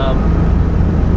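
Engine of a 2006 Pontiac Solstice with a dual overhead cam, revving high under acceleration as a steady, loud, dense low drone lasting about a second, with a little voice at the start.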